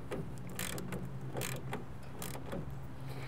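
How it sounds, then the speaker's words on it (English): A clamp on a Bak Roll X tonneau cover on a Ford F-150 is cranked tight, giving a quick run of close mechanical clicks and ratcheting ticks in an irregular rhythm over a low background hum. "we're going to continue to tighten that clamp all the way down"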